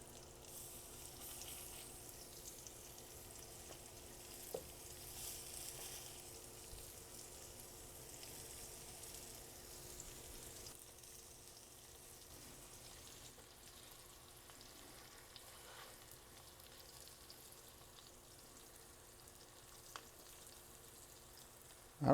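Chicken pieces packed close together in a pot of hot oil, Cajun sticky chicken, fry with a steady crackling sizzle, soft and continuous for the whole stretch with a couple of sharper pops.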